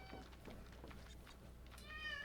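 A house cat named Guppy, hungry for a snack, gives a faint, short meow near the end, heard fairly close in a quiet room.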